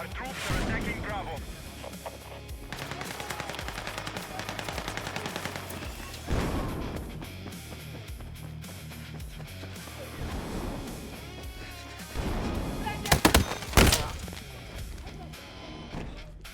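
Rapid bursts of gunfire from troops assaulting an objective in a military shooter game, dense crackling volleys running throughout with a louder cluster of shots near the end, under a voice talking.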